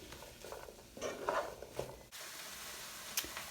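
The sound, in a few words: stirring onions and mushrooms cooking in a pan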